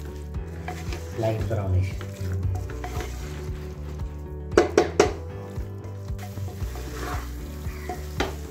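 Mutton sizzles and fries in hot oil in a pan for a Gujju mutton curry, with steady stirring scrapes and a few sharp utensil clanks against the pot, while people talk quietly nearby.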